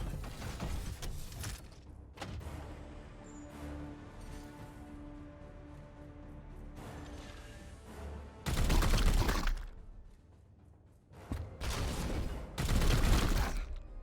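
Bursts of support-fire gunshots ring out in the video game Chaos Gate Daemonhunters, two loud volleys of rapid shots over a rumbling game backdrop and mechanical clatter, with no talk.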